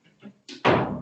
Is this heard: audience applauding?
no